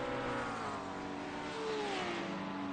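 A GT3 race car accelerates hard at Watkins Glen, its engine note climbing steadily and loud throughout with no speech over it.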